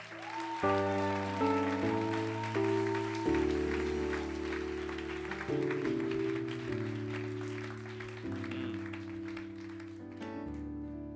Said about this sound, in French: Est-ce qu'on peut acclamer le Seigneur pour nos bien-aimés?